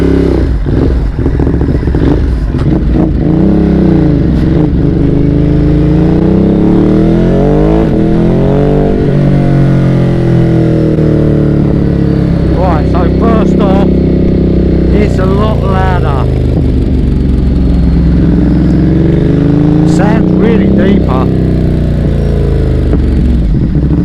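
A motorcycle running with its exhaust baffles removed revs up and pulls away several times, the loud, raspy engine rising and falling in pitch, with voices talking alongside.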